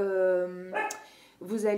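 A pet dog barks twice in a home, short harmonic barks close to the listener with a brief pause between them, heard alone without talk.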